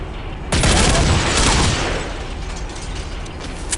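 Rapid automatic rifle fire from a FAMAS in Counter-Strike: Condition Zero, a loud dense burst of shots lasting about a second and a half, then fading into a reverberant tail and low background game noise.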